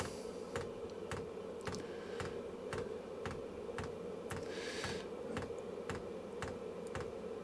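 A tiny fuel pump on a cheap diesel heater pulses with quiet, evenly spaced clicks, roughly two per second, over a faint steady hum.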